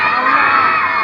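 A large crowd at a religious gathering shouts together in one loud, sustained roar, a dense wall of massed voices with no single speaker standing out.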